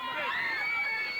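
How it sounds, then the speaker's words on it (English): Irate arena crowd at a WCW wrestling match jeering National Heavyweight Champion Larry Zbyszko, a dense sustained roar of shouting and whistling voices, loud and continuous. "the crowd completely irate now with the National Heavyweight Champion Zybyszko"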